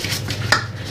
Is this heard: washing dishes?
yes